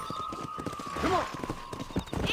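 Horse hooves clip-clop in the Red Dead Redemption video game, a steady rhythmic trot under a sustained tone and a brief whinny, moderately loud with faint voices around it.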